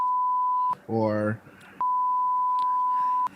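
Censor bleeps added in editing to a podcast conversation: a long steady electronic tone, a brief stretch of talk, then a second long identical tone, each bleep loud and flat.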